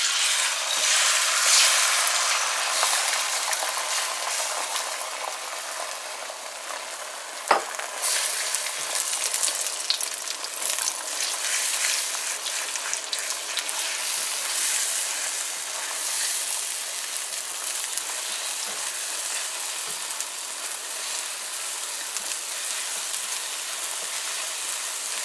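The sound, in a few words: eggs frying in hot oil for egg ramen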